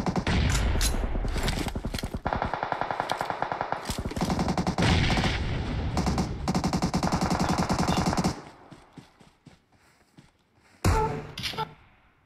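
Sustained automatic gunfire in PUBG Mobile, loud close rapid bursts of shots for about eight seconds, then a lull and one more short burst near the end.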